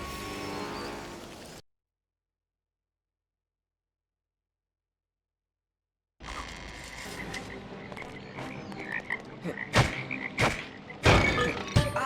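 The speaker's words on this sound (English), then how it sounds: "Look at all those toads." Toads croak in Lemony Snicket's A Series of Unfortunate Events video game, their croaks starting after a stretch of silence and building into louder, scattered calls mixed with soft thuds.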